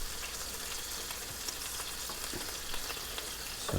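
Keto Scotch eggs fry in a pan with a steady, close crackling sizzle and scattered sharp pops throughout, no voices over it.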